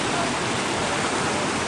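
Floodwater rushes past in a steady, loud, broadband roar, continuous and unbroken with no voices over it.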